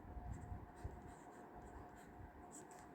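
Pen writing on paper during a Hindi language lesson, a soft continuous scratchy rustle of strokes running steadily throughout, fairly quiet and close, with no talking.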